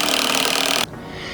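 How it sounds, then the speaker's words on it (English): A power drill drives a screw into wood while building a raised garden bed, a dense grinding whine that holds steady for under a second and then cuts off abruptly. "So what we're gonna start doing is begin drilling it in, and we're only gonna go part way"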